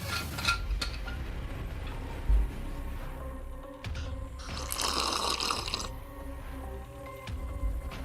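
Water pours into a vessel, splashing and trickling in short bursts with a fuller gush midway, close and fairly quiet among small knocks and clinks.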